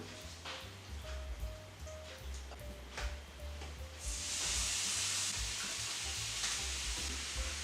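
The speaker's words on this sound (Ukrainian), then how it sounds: "Сковорідка нагрілася і викладає кабачки." Steady frying sizzle with a hiss that swells louder about halfway through, as if more food hits the hot pan; a low hum runs underneath.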